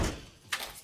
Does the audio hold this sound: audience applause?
no